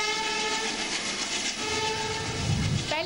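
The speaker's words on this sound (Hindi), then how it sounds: "रेल शुरू भी हो गई।" The Patliputra–Lucknow superfast train starts off at a rail project inauguration in Bihar, its horn sounding steadily over the rumble and clatter of the wagons, loud and continuous throughout.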